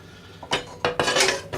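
A steep-sided wok or fry pan clanks and scrapes on the stove as a couple of tablespoons of oil are swirled around, several close metallic knocks in quick succession.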